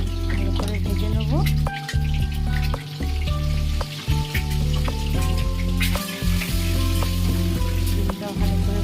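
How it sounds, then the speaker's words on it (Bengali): Eggs fry in hot oil sprinkled with turmeric, giving a loud, continuous close-up sizzle and crackle that runs the whole time under a steady hum. "আর ওপর থেকে দিয়ে দেবো সামান্য পরিমাণে হলুদ। লাল লাল করে ভালো করে ভেজে নেব।"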